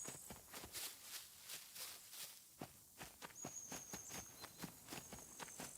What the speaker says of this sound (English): Sounded like another set of footsteps off to my right.